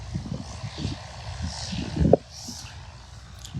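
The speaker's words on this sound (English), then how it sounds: "N73530, and it's a white and blue plane." A white and blue propeller airplane, registration N73530, drones steadily in the distance with a low, rough engine hum and a brief louder swell partway through.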